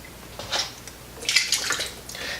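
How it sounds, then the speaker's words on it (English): Small plastic parts from an NES controller splash and clatter into a basin of warm soapy water in two short bursts of sloshing and dripping, close and fairly quiet. "we're going to dump all our parts of the controller in the warm water"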